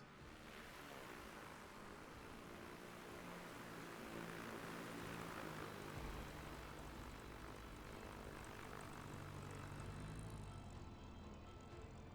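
A KitFox light aircraft engine drones steadily as the plane flies in to land, a continuous propeller hum rising slightly in pitch and holding throughout, with no speech.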